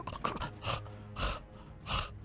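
A voice imitates a woman gasping and choking: four strained, breathy gasps at roughly even intervals, close and fairly loud, with no other talking.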